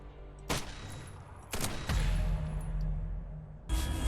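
Gunfire in the shooter game Eximius: Seize the Frontline: four loud, sharp shots or short bursts at irregular intervals over a low, steady background rumble, with no talking.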